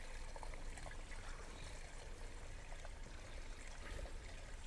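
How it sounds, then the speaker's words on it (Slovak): Gasoline pours steadily through a long funnel into the tank of a Mustang limousine, a soft continuous trickle that stays low and even throughout, with no one talking. "To je strašne cool, že tam sa leje benzín."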